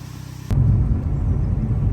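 A 2010 Chevy Malibu driving, heard as a steady low engine and road rumble that swells abruptly after a soft start and holds loud and close throughout.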